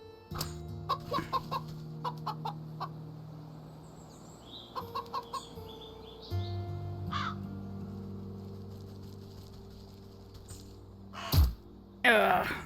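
A crow in the game Wytchwood caws loudly near the end, after a stretch of soft chiming game sounds and light clicks.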